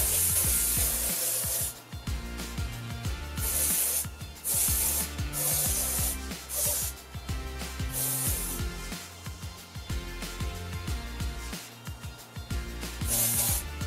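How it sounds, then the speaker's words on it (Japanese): Powder hairspray mists onto waved hair in repeated short hissing bursts with small gaps between them, close and fairly loud. "パウダーをスプレーしたいと思います。"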